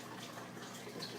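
Water drains steadily into a sump under a 29-gallon aquarium, a soft, faint continuous rush and trickle over just over a second.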